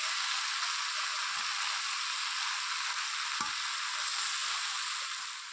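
Pumpkin ghonto with greens cooks in a pan, giving a steady, soft hiss and sizzle with a few faint stirring knocks, and no talking.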